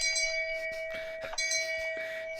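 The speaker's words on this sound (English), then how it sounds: "Sponsored by Shame Bell." A shame bell rings as a comic effect, a sustained metallic tone with bright overtones that rings on steadily, close and clear with no talk over it.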